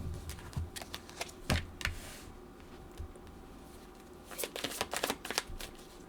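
Tarot cards being shuffled indoors, repeated crisp riffling bursts in irregular clusters, close and fairly quiet, with no voice over them.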